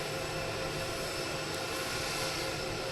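Air Force One, a presidential jet, rolls in at a Florida airport near Palm Beach, its jet engines giving off a steady, loud, broadband roar that fills the whole stretch with no break and no speech.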